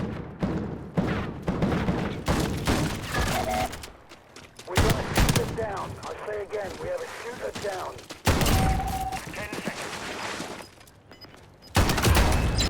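Bursts of automatic gunfire from the video game Call of Duty Modern Warfare, loud volleys of shots in clusters with brief lulls between them, thumps mixed in and a voice talking over parts of it.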